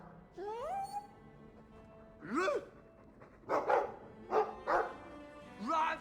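A dog's barks and yips in a cartoonish game-like setting, several short bursts spaced apart, some rising whine-like calls, moderately loud over a soft background.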